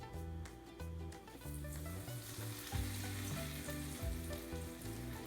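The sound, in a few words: chicken cutlets frying in oil in a pan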